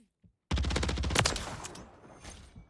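Automatic gunfire in Modern Warfare 3 ranked play bursts in after a brief near-silence, a fast, loud string of close shots that fades into decaying echoes and scattered quieter hits.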